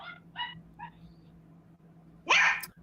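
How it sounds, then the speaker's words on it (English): Dogs bark several times in short sharp bursts indoors, a few yips followed by one louder, longer bark near the end, with a faint steady hum underneath. "The dogs won't leave me alone."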